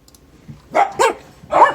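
Indoor dogs give three loud, close barks in quick succession, each short and sharp, with a quiet pause before the first.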